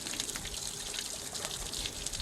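A Cornish Cross broiler chicken is swished back and forth in warm scalding water, making a steady sloshing and gurgling of liquid with small splashes up close. No one speaks.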